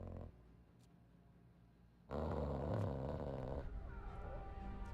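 A dog in the video game Lethal Company growls low at the doors, a rumbling snarl that swells loud and close for a couple of seconds after a quieter stretch, with no talk over it.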